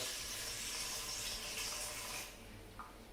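Water runs steadily from a tap into a container for sourdough dough, a continuous close hiss of filling liquid for about two seconds before it cuts off, leaving faint background and a small clink.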